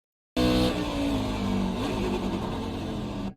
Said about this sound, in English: You can hear kind of wheel hopping there